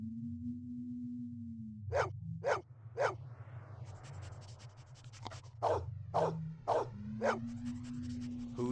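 A dog barks in the video game Blade Runner Enhanced Edition on PS5, giving about eight sharp, close barks in uneven clusters over a steady low electronic hum, with no talking.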